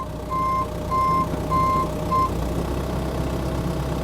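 Backhoe loader reversing alarm sounding four evenly spaced beeps over a steady idling diesel engine rumble, the last beep cut short.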